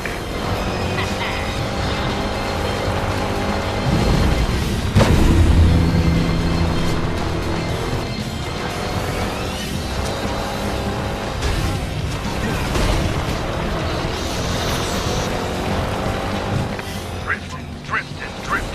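Kart engine whining and revving through a long drift in the PS3 game ModNation Racers, a steady loud buzz with crashes and honks layered on top and a voice talking over it throughout.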